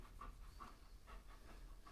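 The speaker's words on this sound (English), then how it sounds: "He's a good shop dog" A dog named Bentley pants in a workshop, quick rhythmic breaths repeating close and fairly soft over a low background hum.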